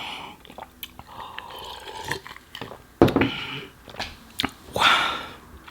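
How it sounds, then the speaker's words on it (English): Someone chews and crunches a homemade sandwich with fresh vegetables and avocado, close and wet with irregular bites, a sharper crunch burst midway, and soft breathing between mouthfuls. "I just love the crunch of the vegetables"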